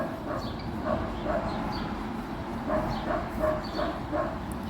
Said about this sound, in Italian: Il cane del vicino